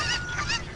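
Loud, close honking squawks from a Cucco chicken in Legend of Zelda: Ocarina of Time, two quick nasal bursts with no talk over them.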